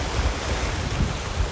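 Ocean waves at high tide wash onto a beach front in Calauag, Quezon Province, Philippines, a steady rushing surf heavily buffeted by wind noise on the microphone, with rolling swells rising and falling.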